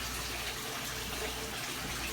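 Tap water pours steadily into a bucket for a freshwater planted aquarium water change, a continuous close rushing fill with no break and no voices.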